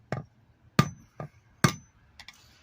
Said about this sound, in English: just pretty much destroy the rim of the seal until you can get the screwdriver under it